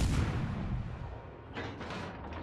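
Big naval guns firing in a warship video game, with Iowa and Ohio battleships in the fight: a heavy, rumbling boom that decays slowly, followed by a second muffled blast.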